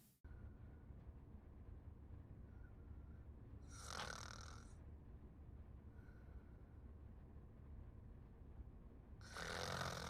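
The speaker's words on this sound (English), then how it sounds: "I fucking hate snoring" Snoring from a sleeping person drones under a low steady background rumble, with a couple of louder bursts of noisy breath standing out near the middle and at the end.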